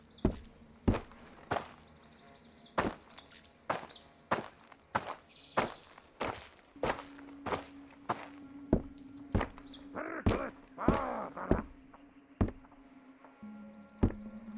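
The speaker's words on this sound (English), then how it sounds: "I do hear his footsteps." Footsteps of an enemy moving inside a house in the game Road to Vostok: a long series of sharp, fairly close thuds in an irregular walking rhythm, with a faint hum running underneath.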